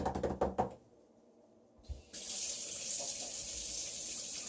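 A newly installed kitchen faucet is turned on after a few knocks and clunks, then a short quiet gap, and water runs in a steady, close hiss into the sink.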